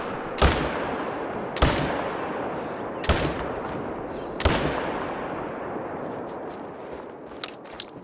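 A semi-automatic rifle fires at bison in the video game theHunter: Call of the Wild: four loud, evenly spaced shots, each followed by a long rolling echo, then quieter outdoor ambience.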